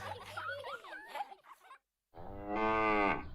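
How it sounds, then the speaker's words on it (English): A cow moos as a sound effect in a radio advert, a drawn-out tonal low after a short burst of chuckling and chatter, close and loud. "Is that a cow in the garden? Oh, it's a bull."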